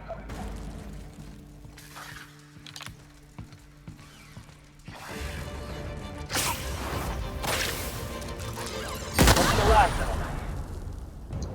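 Plasma rifle in The Outer Worlds firing in a series of sharp, whip-like energy bursts with whooshing trails, growing denser and louder over the stretch amid game ambience.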